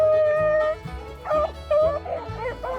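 Hunting dogs bark, yip and whine in an excited, overlapping chorus while running rabbits in eastern Kentucky, loud and close with steady back-and-forth calls.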